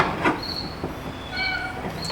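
A pet cat named Luna meowing outdoors beside a Hyundai Sonata being worked on, a couple of short thin cries at moderate loudness over a background hiss.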